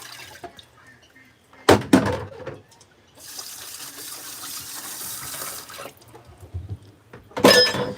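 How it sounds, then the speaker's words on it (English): Water from a tap rinses feed scoops into a bucket at an animal sanctuary, a steady splashing run of several seconds between louder clattering handling noises. "I rinse off all of my scoops into here"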